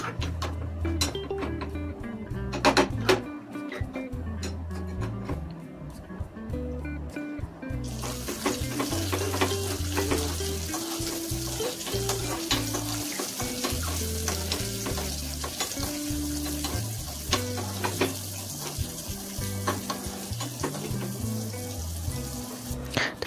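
Rice fries in ghee over a low flame for a payas, giving a steady sizzle throughout with frequent scraping stir strokes and clinks of a spoon against the pan.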